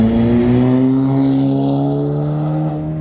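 A car drives down a Tokyo street at night, its engine giving a loud, close, sustained drone with strong tonal harmonics that climb slightly in pitch as it passes, with no talking.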